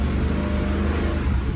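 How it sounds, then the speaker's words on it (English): Motorhome engine mounted up front droning steadily while driving on a road, a loud continuous low rumble with no talking. "It is loud, the motorhome. The engine is in the front."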